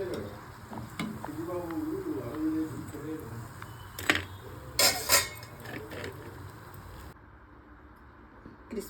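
Sago vadas frying in hot oil, a soft continuous sizzle with occasional stirring scrapes and metal clinks from a utensil, and brief voice sounds in the first half.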